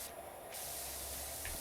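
A pressure washer in the video game PowerWash Simulator 2 sprays with a steady, close, broad hiss that shifts slightly in tone partway through and never stops, with no talk.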